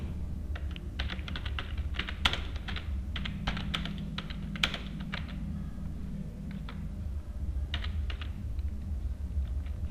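Close, continuous clatter of Java code being typed on a computer keyboard, irregular runs of quick keystrokes with brief pauses and no voices.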